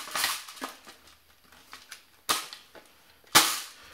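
Sharp mechanical clicks of a magazine being seated into a Golden Eagle GE6670 MCR airsoft light machine gun, with a few loud snaps spread out among softer handling rattles, close up and with no voices.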